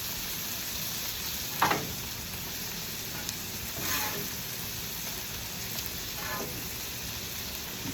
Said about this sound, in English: Go ahead and drop them shrimps in here.